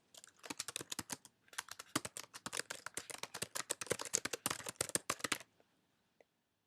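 Rapid bursts of computer keyboard keystrokes as a search for a school name is typed in, a quick close clatter with a short pause, then a final isolated tap before silence.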